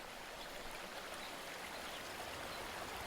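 Rushing water from river streams and waterfalls along the Youghiogheny River in Garrett County, a steady broadband flow that stays even and continuous throughout with no voices.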